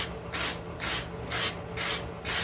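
A wire brush spinning on a bench grinder scours the handle of a forge-welded cable knife in four separate passes, each a loud, coarse scraping burst against a steady low motor hum, with no talk.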